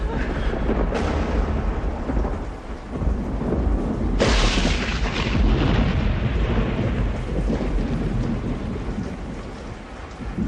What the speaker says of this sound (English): a major storm hit that was stranding commuters like George in the city